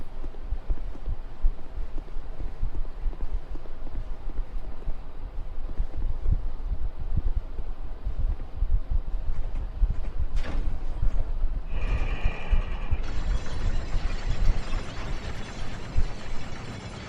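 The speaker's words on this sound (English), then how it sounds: "you can go down this elevator." A descending elevator in Dark Souls 2's Heide's Tower of Flame grinds with a steady low rumbling hum, then clanks and rattles sharply near the end as it reaches the bottom.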